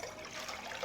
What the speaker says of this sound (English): So I'm going to put 2 cups of water in with it.